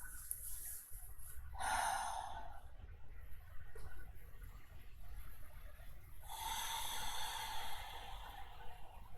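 Deep, slow breathing during a gentle yoga session for the hips: a long audible inhale, a pause, then a long airy exhale, close to the microphone with no talking.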